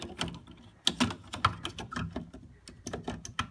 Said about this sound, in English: That'll be this breaker.